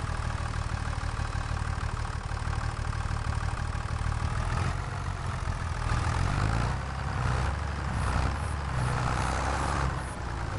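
Tractor engine in Farming Simulator 25 on the Riverbend Springs map, hauling two loads at once: a steady, continuous mid-to-low engine drone that runs unbroken for the whole stretch, with no talk over it.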